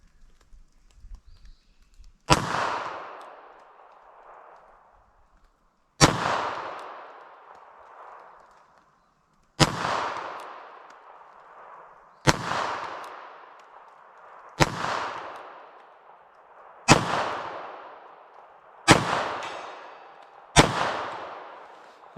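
A .32 ACP pistol fires Fiocchi FMJ ammunition outdoors: eight sharp shots spaced a few seconds apart, each a crisp crack trailing into a brief echoing decay.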